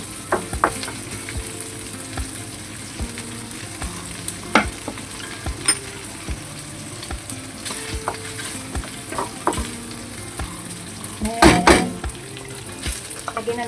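Celtuce and minced pork stir-fried in a pan, browning with steady sizzling, scraping spatula strokes and occasional clinks of metal against the pan, building to a louder burst of clatter near the end.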